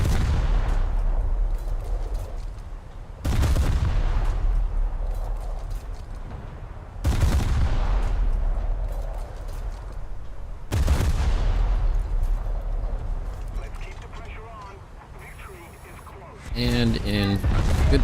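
Naval guns fire in War Thunder naval realistic battles, three heavy booming salvos spaced a few seconds apart, each decaying into a long rumble, with someone talking over the game sounds near the end.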